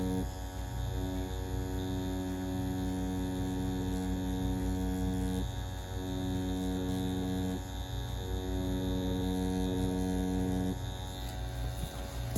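A Dragonhawk Mast tattoo machine hums at a steady, loud pitch while pulling lines with a 3 round liner, its buzz continuous with slight shifts in tone and no speech.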